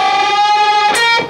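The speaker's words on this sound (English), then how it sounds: "so bend the G string, 12th fret, a whole step." An electric guitar plays a unison bend, the G string at the 12th fret pushed up a whole step, giving a sustained bright distorted tone, close and loud, with a brief pick attack near the end.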